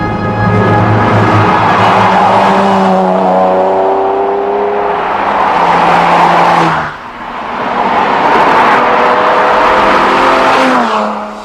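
A Lister Le Mans, a modified Jaguar XJS, revs loudly and up close, climbing hard through the gears with rising engine tones and a brief lift between shifts.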